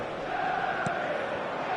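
Football stadium crowd on match day, a steady broad roar of many voices filling the whole moment at a constant level, with one brief brighter shout near the middle.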